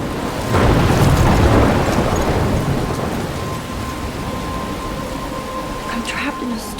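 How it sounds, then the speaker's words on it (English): Thunderstorm with rain in the video game Life Is Strange: a deep rolling thunder rumble swells early over a steady hiss of falling rain, then eases into continuous rainfall with a few sharper drops near the end. "I'm trapped in a storm?"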